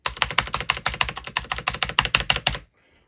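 Rapid, evenly paced clacking of keys on a repaired computer keyboard, close and crisp, about twenty strokes in a steady burst before stopping into near silence.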